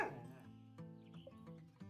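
Caesar, a pet dog in the game Witchy Life Story, gives short whimpers and soft yips over a quiet musical backdrop, close and moderately loud.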